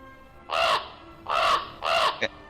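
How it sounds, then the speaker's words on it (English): A raven calls three times in hoarse, drawn-out croaks at a steady pace, clear and fairly close, with a short clipped note after the last call. "You hear a raven"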